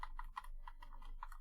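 Quick, faint keystrokes on a computer keyboard, a light irregular patter of clicks over a low background hum.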